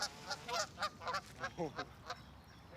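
Goose- or duck-like honking calls from a small group of waterfowl near a person, about eight short quacks in an irregular run over a quiet outdoor background, with a brief spoken word among them.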